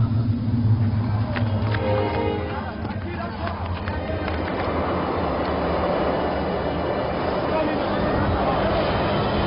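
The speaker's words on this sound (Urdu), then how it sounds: "طوفان شروع ہو گیا ہے" A storm breaking out, with a heavy, continuous low rumble and gusty roar that swells and churns steadily throughout, voices faintly mixed in beneath the din.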